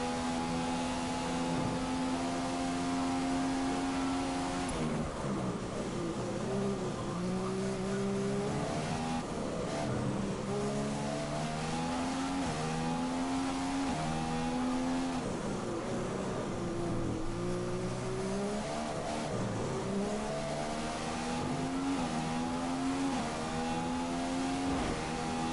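A Formula 1 race car engine screams through repeated upshifts and downshifts on the final lap in F1 2015 on PS4, a continuous high-pitched wail rising and falling in waves for the whole stretch, loud and unbroken, with no talking.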